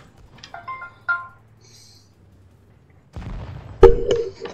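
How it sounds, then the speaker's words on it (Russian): Incoming VKontakte call ringtone sounding in short tonal melodic bursts, followed by loud booming tank cannon fire and explosions from a World of Tanks Blitz match. "Кто-то мне звонит ВКонтакте."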